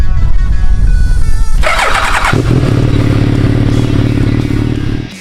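A Suzuki B-King motorcycle engine fires up after a clattering start, then settles into a loud, close, steady rumbling idle that fades out at the end.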